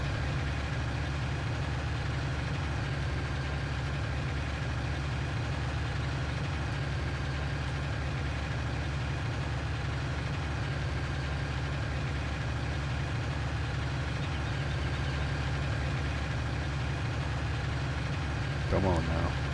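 In Farming Simulator 19, a tractor engine labors up a steep hill with a steady, loud, low drone that continues unbroken throughout.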